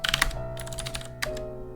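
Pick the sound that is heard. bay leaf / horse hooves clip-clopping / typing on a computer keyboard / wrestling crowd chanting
typing on a computer keyboard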